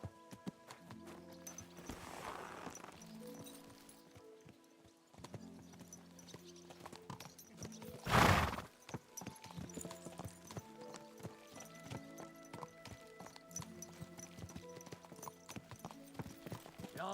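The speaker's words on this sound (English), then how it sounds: "So mount up and we'll ride out." Horses ridden out in the video game Kingdom Come Deliverance 2, hooves clip-clopping in a steady walking rhythm, with a loud whinny partway through and game music faintly underneath.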